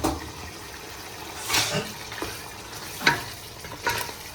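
Chicken fries in hot oil for biryani, a close sizzle with occasional bursts of spattering and stirring scrapes rising over a steady low hiss.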